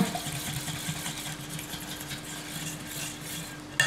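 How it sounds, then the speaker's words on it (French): A utensil stirs the mini leek quiche mixture in a bowl, a steady wet swishing and scraping with a faint hum, ending in a brief clink. "on touille bien"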